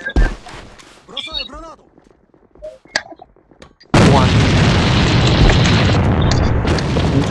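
A grenade blows up in the online shooter A.V.A during a clan match, a sudden loud blast that cuts in midway and fills the rest with roaring noise, after a stretch of quieter game sounds and voices.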